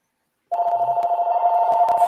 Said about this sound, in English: he's going to have to take a break here as his phone rings again